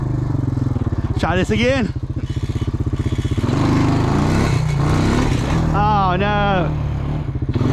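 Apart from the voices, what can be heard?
old Honda four-wheeler ATV engine mudding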